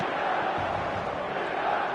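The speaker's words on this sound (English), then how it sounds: "the crowd here in Guadalajara, known for being hot and passionate" A hot, passionate stadium crowd in Guadalajara during an eFootball match keeps up a steady, loud roar of cheering with no breaks.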